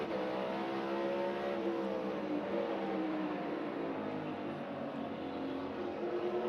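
NASCAR stock cars racing at Martinsville Speedway in the 2024 Cook Out 400, with loud, continuous engine roar and shifting revving pitch as the field circles close by.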